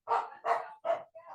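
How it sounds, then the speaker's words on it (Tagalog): A dog barks close by, three sharp barks in quick succession followed by a softer, shorter yelp, with no talking underneath. "Ang ingay ng aso eh."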